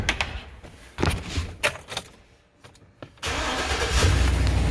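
A pickup truck's engine cranks and catches after battery work, then settles into a steady, loud idle close by, with some clanks and key jangles before the start.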